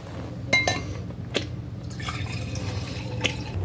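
Liquid poured out as a ritual offering, a close trickle with a few sharp drips and clinks against a vessel over a steady low hum, no talking.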